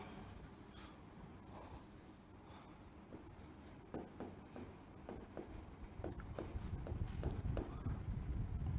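Pen or chalk strokes during a Hindi geography lesson, a series of short scratchy taps and scrapes that grow busier and louder toward the end, close by, with quiet background voice.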